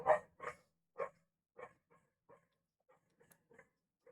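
Dogs bark a few times up close and loud, then smaller yips and whines trail off and grow fainter against silence.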